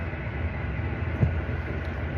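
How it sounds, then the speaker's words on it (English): Train ride from Krakow toward a Polish border town, an even low rumbling drone inside the carriage with a faint rattle, steady and continuous. "I'm on a train to Shimish."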